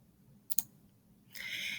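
Computer mouse clicking the Save button, a quick double click followed shortly by a soft hiss, close and quiet with no talking.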